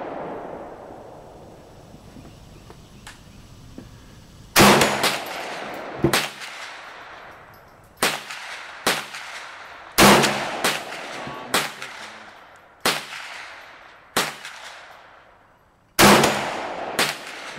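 Gunshots from a firearm at an outdoor shooting range, a series of loud, sharp reports with quick decaying echoes, fired one at a time at irregular intervals of one to two seconds after a quiet lead-in.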